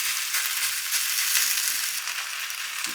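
Food fries in oil in a pan over medium-low heat, a steady close hiss and crackle that runs continuously throughout without any talking.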